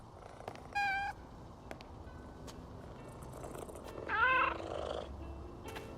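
A cat in the video game PowerWash Simulator 2 being petted, steady low purring throughout with two short, bright meows standing out above it, close and with no one talking.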